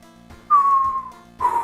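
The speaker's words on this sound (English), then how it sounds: "I didn't even mean to whistle there" A single sustained whistled note glides slightly downward for most of a second, followed by a second brief whistled tone, loud and close with no talking.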